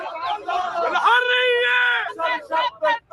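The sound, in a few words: crowd cheering at Beirut airport celebrating George Abdallah's arrival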